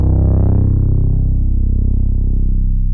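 A deep, sustained sub bass one-shot holds the root note D sharp with a dark, slightly distorted tone, steady and loud for three seconds with nothing else playing.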